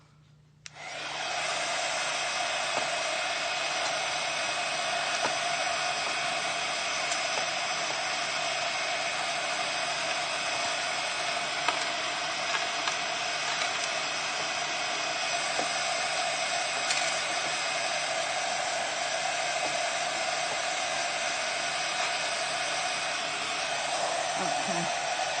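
A dryer blows hot air to dry paint on glass Christmas tree decorations, a steady loud whooshing hum that starts abruptly and runs unbroken for over twenty seconds, close up and alone.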